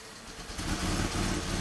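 Chevy Impala engine idling with an EVAP fault as the purge valve opens, a close, steady mid-pitched engine hum that swells slightly in level partway through, with no talk.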